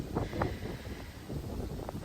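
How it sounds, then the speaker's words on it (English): Strong wind buffets the microphone outdoors, a low rumbling gust that surges and eases over a couple of seconds, with no speech. "the wind's crazy"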